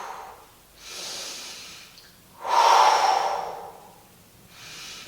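A slow, steady exhale followed by an inhale during a Pilates core exercise, heard as close, airy breathing in long, smooth swells with no speech.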